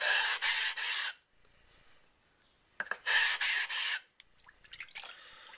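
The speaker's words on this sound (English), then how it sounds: "I'm going to go ahead and rub on the sides a little bit" A knife edge is rubbed back and forth on a waterstone, knocking off the sharpness along the sides: loud, close rasping strokes in two rhythmic sets of three, with quieter scraping and light taps between them.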